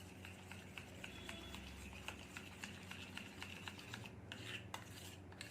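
A spoon stirs papad batter in a bowl, giving quiet, steady scraping and light clinking against the bowl's side, with no one speaking.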